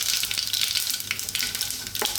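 Black mustard seeds and dried red chilli sizzle steadily in hot oil, a loud, close, crackling hiss with small pops scattered throughout and no voices.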